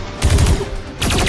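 Rapid bursts of sci-fi blaster fire crackle in quick succession, a loud stuttering volley, a brief pause, then another rattling burst.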